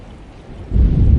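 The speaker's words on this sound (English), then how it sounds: "Just keeping an eye out for the storm." A storm with rain and thunder: a quiet hiss gives way to a sudden loud, deep rumble of thunder over rain, close and heavy.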